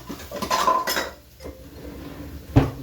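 A kitchen knife is pulled out from among cutlery in a home kitchen, with a burst of metallic clinking and rattling followed by a quieter pause and then a single sharp clatter.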